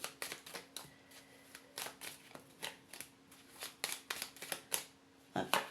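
Tarot cards are shuffled and drawn, making a quick series of crisp papery flicks and snaps close by that come in irregular bursts.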